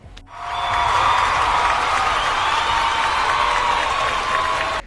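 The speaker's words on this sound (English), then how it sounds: "Adults applauding for Light." Sustained applause from a group of adults, dense and steady clapping that swells quickly and holds for several seconds before stopping abruptly.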